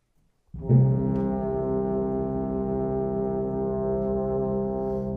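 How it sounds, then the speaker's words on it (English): A single deep, sustained low B-flat bass trombone note with a soft timpani and metallic tam-tam undertone swells in and holds steadily at mezzo forte until the end. "So that will be bass trombone, B-flat bass, timpani and tam-tam."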